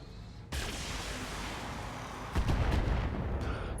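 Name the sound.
heavy weapons fire hitting mech, from video game Battletech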